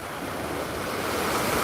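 Ocean waves at New York harbor during Tropical Storm Fay, a dense continuous roar of surf washing in close to the microphone with wind noise and no break.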